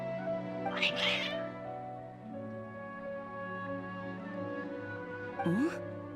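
Cats meow in short bursts over a steady electronic music bed in the video game Genshin Impact, with one yowl early and another near the end.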